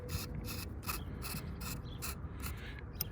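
A 1/4 inch Allen wrench works a mounting bolt on a Minn Kota Ultrex trolling motor bracket, making quiet rhythmic metal rasping strokes about every half second, close up and faint, with no talking.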